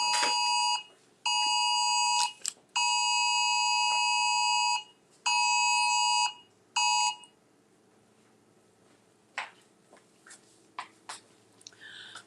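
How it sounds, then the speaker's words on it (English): A phone's Amber Alert emergency alarm blares in a series of loud, harsh electronic tone bursts with short gaps, about seven seconds long, then stops, leaving quiet room sound with a few faint clicks. "Amber Alert."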